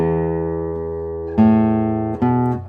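A deep, round low E note on a Jan Schneider concert classical guitar rings with long sustain and is plucked again twice, each attack blooming before slowly fading.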